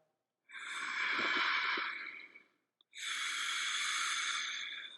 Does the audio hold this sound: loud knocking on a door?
no